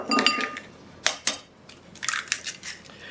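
Four eggs being beaten into choux pastry dough in a pan, heard as irregular wet squelching slaps with scraping clinks of a utensil against the pan, in short bursts with brief pauses, close and moderately loud.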